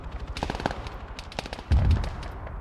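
Automatic gunfire rattles in an Arma 3 campaign battle, rapid overlapping shots with a heavy, booming blast near the end, loud and dense with no voices.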